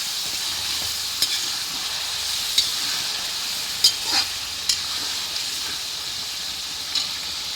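About six kilograms of beef fry in a pan for Nepali meat achar, giving a steady, bright sizzle and hiss, with occasional soft clicks and scrapes of stirring.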